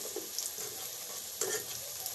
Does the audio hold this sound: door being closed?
no